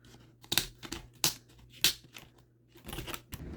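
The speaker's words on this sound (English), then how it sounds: "we're just going to cut the top piece off because we don't want this piece here" Scissors cutting the top rim off a plastic Dollar Tree laundry basket, several sharp snipping crunches spaced about half a second apart, with rustling plastic in between, close and fairly loud.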